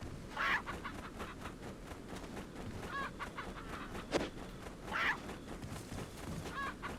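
Chicken clucking in the video game Resident Evil 4, a few short bursts of clucks spaced a couple of seconds apart over a busy, steady game ambience.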